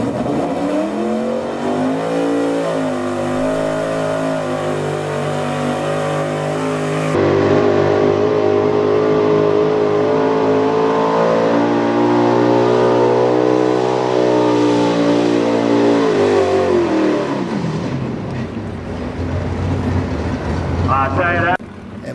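A Chevy square body truck called the Coal Crusher, driven by Josh Sharver, revs loudly and steadily in a truck pull run. The engine note climbs and holds at a constant roar before tapering off, with announcer talk over it.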